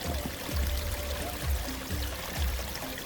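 Wild river water in the Western Ghats flowing steadily, a close, continuous wash with soft splashing pulses and low gurgles, heard alone.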